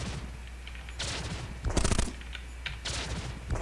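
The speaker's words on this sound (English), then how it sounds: "Firing only one weapon, intentionally because it's a proton cannon" A proton cannon fires in the robot roguelike POLYBOT-7. Several loud, crackling bursts come in an uneven rhythm, separated by short quieter gaps.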